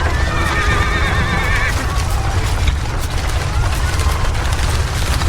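Horses pulling a cart across soft, sinking ground whinny loudly near the start over a dense, continuous clatter of hooves and heavy rumbling movement.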